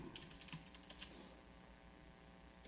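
Quiet, quick clicks of typing on a computer keyboard, a burst of several keystrokes followed by a pause, close and soft with no one speaking.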